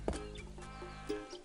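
A duck in the video game Escape from Monkey Island gives two short, nasal quacks about a second apart, clear against a quiet background.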